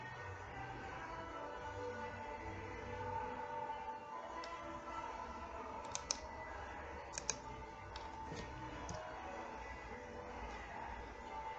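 A computer mouse clicks on text while editing an article, giving a few sharp, quiet clicks in quick pairs over a steady background hum.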